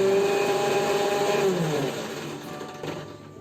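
Mixer grinder crushing tender coconut flesh, a loud whirring motor whine that drops in pitch and fades somewhat as the blades slow, close and steady with no talk.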